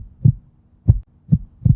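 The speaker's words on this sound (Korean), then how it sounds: "이거 내 심장 소리인가?" Four heavy, muffled heartbeat thumps land at an uneven pace, each a deep low pulse standing alone against near silence.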